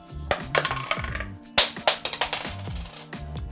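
Small golden metal nuts slide off the end of a MetMo Pen and drop onto a hard surface, a series of close, sharp clinking taps and rattles in quick irregular bursts.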